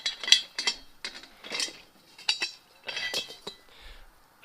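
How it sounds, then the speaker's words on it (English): Metal lid lifted off a propane tank being used to melt aluminum cans over a fire pit, giving a series of sharp metallic clinks and scrapes in quick bursts, close and fairly loud, with no talking. "Take the lid off."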